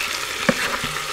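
Leeks wilting in melted butter in a pot over medium heat for potato leek soup, giving a steady soft sizzle with a brief stirring clatter near the middle, no talk.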